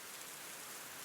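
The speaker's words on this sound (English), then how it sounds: "occasionally the rain does hit you, though" Steady rain hisses in a video game, a dense, even wash of falling drops that holds at a constant level for a short moment.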